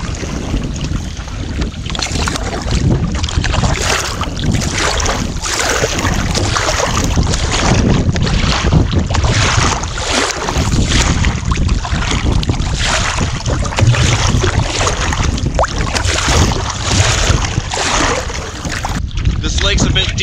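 Canoe paddling across a wilderness lake on a multi-night trip with a dog, heard as a steady wash of water and wind noise against the microphone that holds at an even, fairly loud level throughout.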